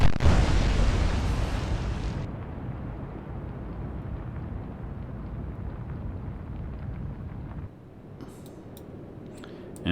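A naval battle in the Atlantic Fleet game, with a cruiser's guns firing. A loud blast opens, then a long rumbling roar fades under wind-like noise, and faint clicks come near the end.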